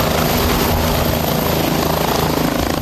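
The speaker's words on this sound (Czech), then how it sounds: "Místo něj přistál na místním fotbalovém hřišti vrtulník s papežským legátem." A helicopter carrying a papal legate lands on a local football pitch at Velehrad, its rotor and engine roaring loudly and continuously with a steady throbbing beat close by.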